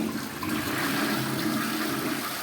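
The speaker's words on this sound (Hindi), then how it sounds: "सीट में लगातार पानी, पूरा फ्लशिंग का प्रेशर आया है" A Bathsense rimless toilet's flush valve releasing water, a steady, loud rushing and gurgling flush that continues evenly throughout without pause, with no voices.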